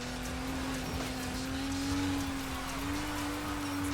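A car's engine holds a steady, droning pitch as it spins through a 360 drift, a continuous close roar with tire and road noise and no pauses.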